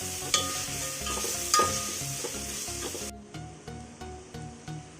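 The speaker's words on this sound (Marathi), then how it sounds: "अद्रक लसूणची पेस्ट चांगली मिक्स करून घ्यायची आपल्याला, म्हणजे कच्चा वास त्याचा निघून गेला पाहिजे।" Ginger garlic paste sizzles loudly in a hot pan for a Hyderabadi-style tahari, with repeated spatula scrapes and stirring strokes keeping a steady rhythm; no one speaks.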